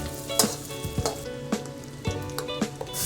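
Finely chopped ginger and three whole red chillies fry in hot oil over low heat while making malai kofta. There is a continuous close sizzle with a few sharp stirring scrapes at regular intervals.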